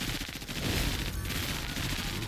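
Gunfire in the turn-based tactics video game MENACE: a dense, loud burst of rapid shots layered into a continuous fusillade with no pause.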